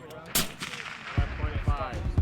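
Gunfire from sniper training with an M107 rifle: a sharp loud crack early on, then several rapid distant booming reports echoing across the range.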